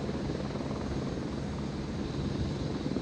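Rescue helicopters working over a disaster zone, a steady loud rotor-and-engine roar with dense low-end rumble that holds unbroken throughout, with no talk.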